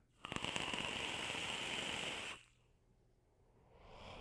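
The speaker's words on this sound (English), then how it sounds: "You can hear the crackle, right?" The hot coil in a Terk V2 RDA rebuildable atomizer crackles and sizzles steadily for about two seconds, with sharp pops at the start, then cuts off into near silence before a faint hiss returns.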